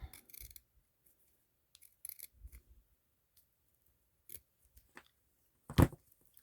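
Scissors snip a narrow strip of material for a doll's cuff, giving a few quiet, short cuts with pauses between them and one louder snip near the end.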